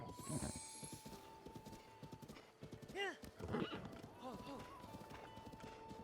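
Horse whinnying with clip-clopping hooves in a Zelda video game, the hoofbeats running steadily throughout as a neigh rises in the middle, with game music and a voice audible underneath.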